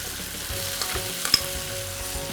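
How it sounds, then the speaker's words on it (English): Chopped tomatoes drop into browned onions in a frying pan, raising a steady broadband sizzle with a few soft stirring knocks and one sharp clink near the middle, close and continuous with no talking. "now I'm going to add the chopped tomatoes"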